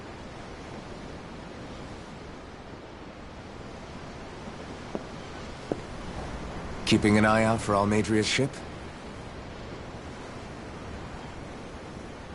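Ocean waves washing ashore in the video game Tales of Arise, a soft, steady surf hiss that runs throughout, with a brief line of spoken dialogue partway through.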